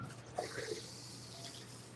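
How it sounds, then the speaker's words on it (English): Tap water runs steadily into a kitchen sink while hands with shortening on them are washed, a soft continuous hiss and splash with faint changes as the hands move under the stream. "I'm going to go wash my hands."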